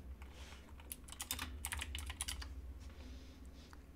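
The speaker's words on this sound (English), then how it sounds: "Let me see if I can type." Rapid clattering keystrokes on a computer keyboard, typed in quick bursts with brief pauses, fairly close and with no talking over them.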